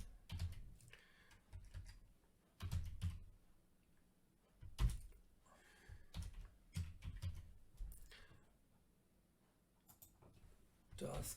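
Clacking bursts of typing on a computer keyboard while code is written, short irregular runs of keystrokes separated by pauses, heard up close, with someone talking between and over the keys.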